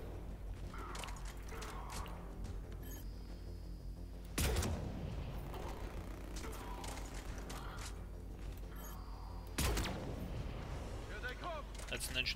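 Shotgun blasts in the Mass Effect 3 video game, two loud sharp booms spaced several seconds apart over a steady bed of mechanical game noise and rumble.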